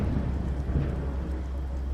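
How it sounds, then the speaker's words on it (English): A deep, chest-reverberating rumble of thunder rolls steadily through heavy low noise, continuous and dense, like a storm building just before rain. "It was closely followed by a chest-reverberating rumble of thunder."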